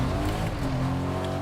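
A video game car engine drones steadily close behind, a continuous rumbling hum with no voices over it.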